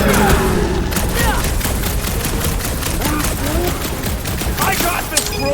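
Rapid, sustained gunfire during a battle in Marvel's Guardians of the Galaxy video game, dense bursts of blaster shots rattling nonstop, loud and close, with faint voices mixed in.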